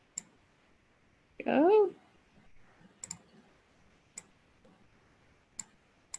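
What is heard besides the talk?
mouse clicks in a drawing program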